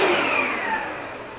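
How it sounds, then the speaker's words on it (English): Household vacuum cleaner switched on briefly for dog training, a loud whirring motor hum that falls off slightly as it winds down, close by with no talk. "Now, I'm going to turn the vacuum on very quickly, and then we're going to turn it right off"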